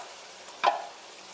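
Liquid is poured into a pan of simmering spiced meat for taco rice, giving one short, loud splash and sizzle that quickly fades back to a quiet background.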